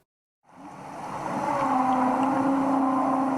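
Whale calls recorded underwater in the ocean, fading in after a short silence into a sustained tonal moan over a wash of sea noise, steady and fairly loud.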